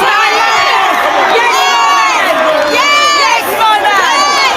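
A Black Lives Matter protest crowd outside Downing Street cheers, whoops and shouts continuously and loudly, with many overlapping voices close by.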